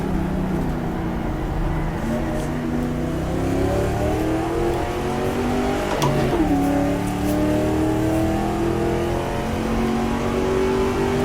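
A 1966 Ford race car engine in the GTR2 racing game pulls hard through first gear, its loud droning note climbing and dropping in pitch as it revs continuously for the whole stretch.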